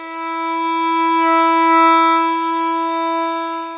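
A violin plays a steady, sustained bowed note with the first finger on the D string. The single pure tone is heard up close with no talking and swells gently in the middle.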